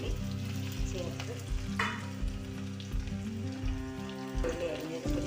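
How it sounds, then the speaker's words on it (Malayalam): Chopped shallots sizzle and crackle in a hot pan for a papaya curry, stirred now and then with clattering utensil knocks, with no talk. "ഉള്ളി അരിഞ്ഞത് കൂടി ചേർത്ത് വഴറ്റി കൊടുക്കുക"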